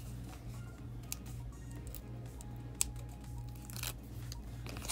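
Backing being peeled off foam squares for card making, a few faint tearing and crinkling rips over a low steady hum at a quiet level, with one sharp small click near the middle.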